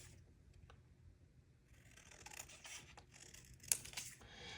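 Scissors snip and rasp through thin junk-mail paper to cut out small photos, a soft close scraping that grows busier midway with one sharper snip, no talking over it.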